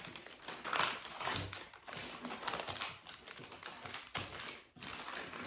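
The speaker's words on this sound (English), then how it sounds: "I fold it all up." Wrapping paper being folded up by hand: close, crisp crinkles and sharp tapping creases in irregular bursts, with brief pauses between handlings and no talk.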